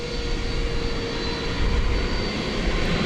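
Jet airliner engines roaring steadily at DFW Airport at night, a continuous broadband rumble with a faint high whine, loud and sustained throughout.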